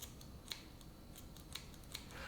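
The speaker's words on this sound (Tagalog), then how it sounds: "Itong likod na part na yan, yan yung gagamitan natin ng gunting. Ikakat lang natin." Scissors snip along the back of a shrimp being deveined, quiet close crisp clicks coming several times in an uneven rhythm.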